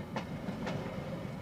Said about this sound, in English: a Freightliner train leaves Harwich for Manchester